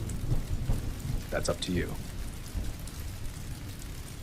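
Steady rain pours down with rumbling thunder rolling through, a continuous storm backdrop under a quiet spoken voice.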